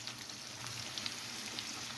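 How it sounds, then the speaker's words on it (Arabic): Meat fries in oil in a pan, giving a continuous, fairly quiet crackling sizzle with small pops throughout and no voices. "نقليه شويه هكذا في الزيت"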